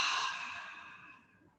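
A single long exhale through the open mouth during a seated yoga breathing exercise, a soft, breathy sigh, close and quiet, tapering off gradually.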